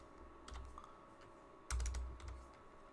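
Keystrokes on a computer keyboard as an Excel formula is entered: a few scattered clicks, then a quick cluster of sharper taps, close and fairly quiet over a low hum, with no voices.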